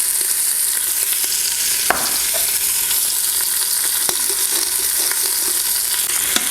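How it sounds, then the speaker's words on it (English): Beef short ribs searing in an Instant Pot, a dense continuous sizzle and crackle of fat with a few sharper pops and scrapes, loud and close with no talking. "I'm going to add 1 more short rib and get that browning"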